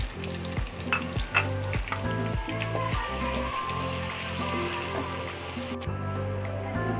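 Onions sizzle and fry steadily in hot oil after garam masala has been sautéed, making a loud, continuous crackle with repeated stirring scrapes throughout.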